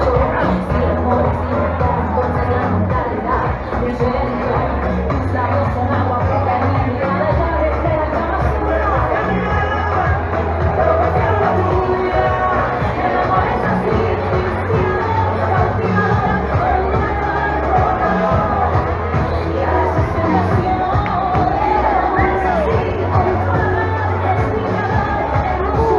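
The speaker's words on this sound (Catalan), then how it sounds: "Aplaudit a tots els que arriben a la línia de meta" A dense crowd at the finish line of a 7K road race in Meliana keeps up a steady roar of chatter and cheering, with music and voices mixed throughout.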